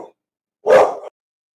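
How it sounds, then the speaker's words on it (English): A single loud, close dog bark, short and sharp, with a brief quiet moment before it and silence after. "It's my dogs."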